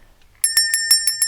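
A small hand bell rings six times in an even, quick rhythm, bright and close, each strike ringing clearly with a sustained metallic tone after a near-silent start.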